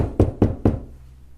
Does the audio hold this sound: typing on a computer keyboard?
no